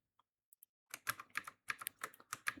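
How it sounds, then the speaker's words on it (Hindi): Keys on a computer keyboard clack in a quick, uneven burst of typing after a few sparse isolated taps, close and clear with no talking. "ये मेरा कीबोर्ड"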